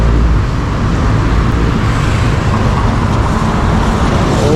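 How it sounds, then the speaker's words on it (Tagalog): Fast-moving road traffic on Katipunan Avenue in the early morning before dawn, a steady, loud wash of cars, buses and trucks rolling past nearby with a constant low roar and no voices. "mabilis yung takbo ng mga sasakyan dito sa mga Katipunan ngayong umaga"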